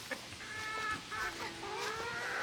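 Chickens clucking in a backyard coop, a few quick bursts and drawn-out calls from one or more hens, fairly close and alone.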